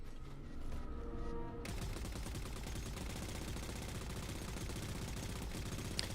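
A machine gun in Halo 4 fires a sustained rapid stream of shots, loud and close, beginning abruptly after a brief quieter moment and running without pause to the end.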